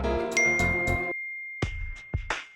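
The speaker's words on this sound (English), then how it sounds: "I get a notification from a tweet that I've been tagged in on Twitter" A chiming notification ding from The Sims video game rings out with a sustained bright tone, set among short musical game sounds that start, stop and restart in quick succession.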